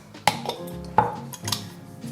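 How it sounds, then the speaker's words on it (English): Glass jars and their lids being set down for berry jam, giving three sharp clinks and knocks spaced about half a second to a second apart, close and fairly loud with faint ringing after each. "You see how I place the jars and the lids."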